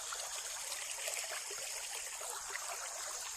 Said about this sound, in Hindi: हमारी नदी छोटी सी कैसे मस्त चल रही है